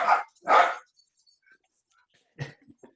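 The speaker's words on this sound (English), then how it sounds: "Fucking dogs." Dogs bark loudly nearby, two sharp barks in quick succession, then after a pause a deeper bark followed by a couple of smaller yips.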